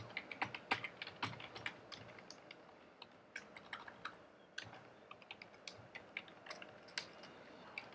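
Code typed on a computer keyboard: a steady run of quick, close key clicks with uneven rhythm and occasional heavier strikes, over a faint room hiss.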